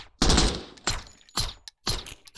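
Gunfire in Door Kickers 2 crackles in four loud rapid bursts of automatic fire, each one cutting off into a brief silence before the next.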